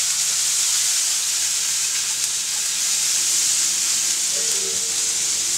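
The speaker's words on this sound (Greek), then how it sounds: "Τώρα θα ανακατέψουμε να πάει παντού." Mustard being stirred into a hot crayfish-and-shrimp sauce in a pan gives a steady, even steam-and-sizzle hiss that runs throughout, with no distinct scraping strokes.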